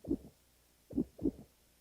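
Heartbeat thumps, low and soft, sounding first as a single beat and then as a quicker close pair after a pause, each a muffled double-thud with quiet between.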